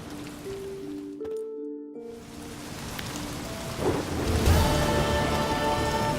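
Steady rain hiss with rolling thunder from a storm in The Witcher 3: Blood and Wine, building louder toward the end while faint game music tones drift through.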